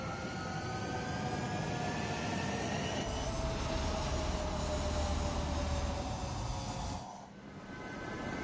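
Military jets taking off in the combat flight game Ace Combat 7, a loud sustained engine roar with rising whine tones that swells, then drops off sharply near the end, no speech.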